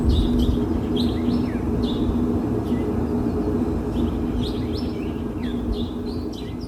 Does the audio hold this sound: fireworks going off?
no